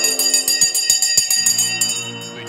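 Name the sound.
stock market opening bell ringing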